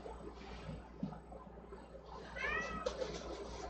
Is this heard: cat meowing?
yes